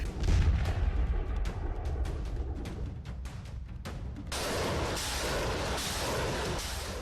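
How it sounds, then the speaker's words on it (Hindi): A Russian tank division's cannons shell an enemy fort. A run of heavy booming shots fills the first few seconds, then gives way to a steady, rumbling wash of distant fire. "दुश्मन के किले को तोपों के गोलों से ध्वस्त किया जा रहा है।"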